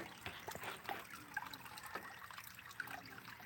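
A small waterfall trickles steadily into a koi pond holding koi and goldfish, a continuous soft outdoor splashing and dribbling heard at a moderate distance with no clear talk.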